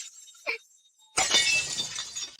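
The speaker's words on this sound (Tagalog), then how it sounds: "aksidenteng nabasag ko ito" An object breaks and shatters, a loud burst of crashing fragments after a brief faint clink and a near-silent pause, with scattering debris trailing off.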